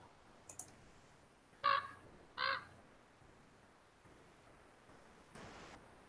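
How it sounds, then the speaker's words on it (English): A raven gives two loud, harsh caws about a second apart, with a fainter call later, over a soft hiss of outdoor background noise. "That sounds like a raven from Castle Black."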